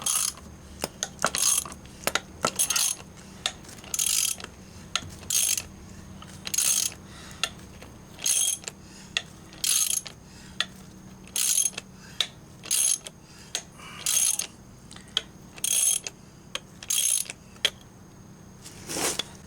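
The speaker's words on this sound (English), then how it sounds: "Now I'm going to switch over to a ratchet to push it on through" A ratchet clicks in repeated short bursts while a ball joint press pushes a U-joint cap through on a Jeep YJ, with steady rhythmic cranking close by and metallic clinks between strokes.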